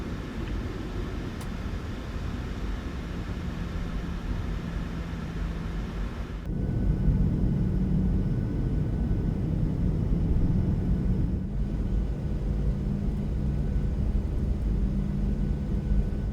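A PMDG 737-800 airliner in Batik Air livery taxiing in Microsoft Flight Simulator: a steady, droning jet engine hum that steps up louder about halfway through and then holds, with no talk.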